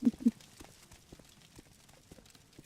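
Footsteps in the video game Morrowind patter in a quick, irregular series, two sharper thuds at the start, then softer steps continuing at a moderate distance.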